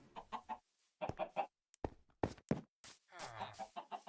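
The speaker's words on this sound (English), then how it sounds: "And over here is the chicken coop where we get our eggs." Minecraft chickens cluck in a blocky coop, several short close clucks and squawks in irregular bursts separated by brief silences.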